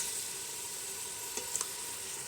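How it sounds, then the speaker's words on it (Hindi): Chicken pieces sizzle and fry in a pan over browned onions, a steady hiss with a few soft stirring clicks near the middle. "अब मैंने इसमें चिकन डाल दिया।"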